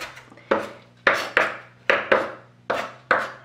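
A kitchen knife chops an onion on a board, re-cutting it in every direction to mince it. About eight sharp, close knocks land in an uneven rhythm, with no talking.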